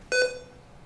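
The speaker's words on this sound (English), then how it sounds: "It will start to beep at me" A laptop gives a short, clear electronic beep at power-on, a single tone lasting about a fifth of a second that fades into a quiet room.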